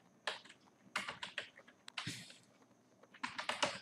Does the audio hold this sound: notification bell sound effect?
no